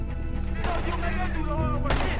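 Gunfire from a night shootout in Red Dead Redemption 2, with sharp broadband shots cracking over a busy mix of game voices and background score, one loud blast near the end.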